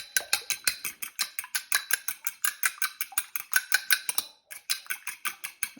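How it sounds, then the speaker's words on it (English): An egg is beaten in a separate container. A utensil clicks against the bowl in fast, steady, close strokes with one brief pause, and no voices. "I do the egg in a separate container and just blend it"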